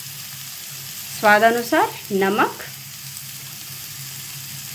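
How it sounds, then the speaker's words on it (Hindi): Spices and a potato mixture fry in a pan for samosa filling, a soft continuous sizzle under someone speaking briefly in Hindi. "इन सबको भी अच्छे से 1 से 2 मिनट के लिए भून लेनी है।"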